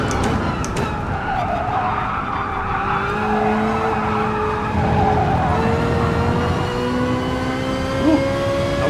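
A racing car roaring under acceleration out of Parabolica at Monza in Gran Turismo Sport, loud and continuous, with rising engine tones climbing through the gears and tyre noise underneath.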